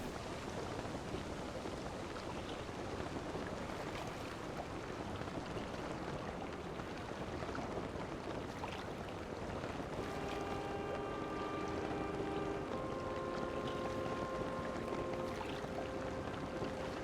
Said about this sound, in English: We're doing it! We're sailing!